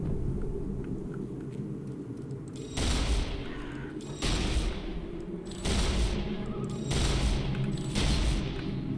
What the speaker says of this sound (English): Last minute with the shotgun, dealing 5 damage.